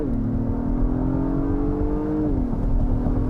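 A 2022 Acura MDX Type S SUV accelerating hard from a standstill in Sport Plus mode: the engine note climbs, holds a steady rising drone, then drops at a gear change, loud from within the cabin.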